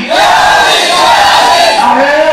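A crowd at a Bengali religious sermon gathering chants the slogan "Haydari" in unison, a loud sustained collective shout with rising voices that fills the whole moment.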